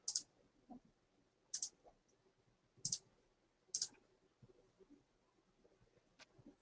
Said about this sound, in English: I'm just going to click start and that should go.